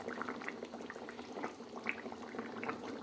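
A katla fish curry with potato and kohlrabi simmers in a pot. Soft, continuous bubbling and popping goes on at moderate volume throughout.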